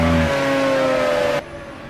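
Pagani Zonda R race car engine in Project Cars, a steady high-pitched drone held at high revs with strong harmonics, cutting to a quieter, thinner tone near the end.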